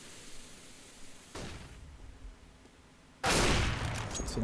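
Gunfire in Counter-Strike on the Nuke map comes as a muffled distant burst, then a loud close barrage of shots breaking out near the end over a noisy background.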